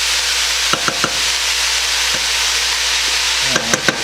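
Sweet peppers sizzle loudly in a pan for homemade goulash, a steady frying hiss broken by a few sharp scrapes and taps of stirring, two near the start and a cluster near the end, with no voices.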